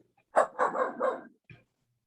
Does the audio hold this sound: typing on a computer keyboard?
no